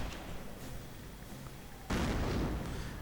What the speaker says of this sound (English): And apparently the German mortar is firing away at some of the American mortars.